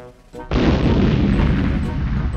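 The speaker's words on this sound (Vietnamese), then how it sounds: "Pha ném lựu đạn đi vào lòng đất là có thật." A hand grenade thrown into the ground blows up during military training, a sudden loud boom that hits hard and then rolls on as a sustained roaring rumble.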